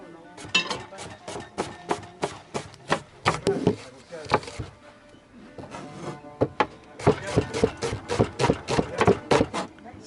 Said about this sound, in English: we have to slice our onion in very thin slices